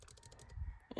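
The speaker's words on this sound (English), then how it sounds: "And you can just type it in, honestly." Quiet rapid keystrokes on a laptop keyboard in tablet mode, a short run of light clicks followed by a couple of louder taps at the end, close and isolated.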